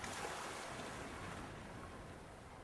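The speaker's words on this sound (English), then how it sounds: "But I'll pour away some of this water first." Water poured out of a bucket in the video game Secret Files 2: Puritas Cordis, a steady broadband splashing rush that holds evenly for a few seconds with no voices.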